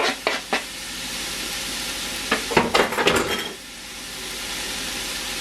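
A fresh serrano chile drops into a hot pan of picadillo, and it sizzles and crackles up briefly as it goes in and gets stirred. A couple of light clinks come first, then a louder burst of frying that quickly settles back down.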